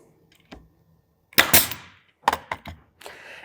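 A pneumatic nailer fires nails into a woodworking project, giving a few sharp, percussive bangs, each with a brief hiss and short decay, spaced irregularly.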